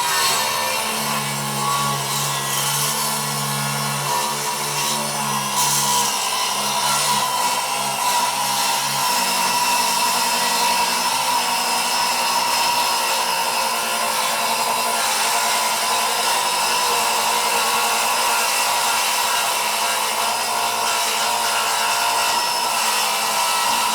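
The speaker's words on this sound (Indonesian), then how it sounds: "sekarang kita coba rip cut ke kayu mahoni, ketebalan 2 inci ya, panjang 120 cm" Dongcheng DCMY02-185 cordless 7-inch circular saw ripping lengthwise through 2-inch-thick, 120 cm mahogany board, a sustained loud whining cut with a steady high-pitched tone and slight fluctuations as the blade feeds through the wood, no talking.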